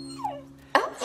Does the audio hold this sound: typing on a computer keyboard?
no